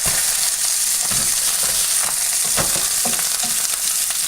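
Stuffed pork cube steaks sizzling in an oiled pan just after being flipped, a steady crackling hiss with scattered sharp pops, close and fairly loud, no talking.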